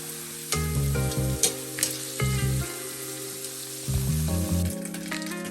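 Pieces of suran (elephant foot yam) fry in a pan, giving a steady sizzle with bursts of stirring scrapes, close and fairly loud, with no voices.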